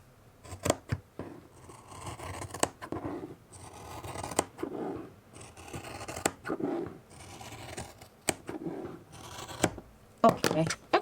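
Scissors snip through trouser hem fabric in repeated sharp cuts and rustles, close up, with someone talking softly in between.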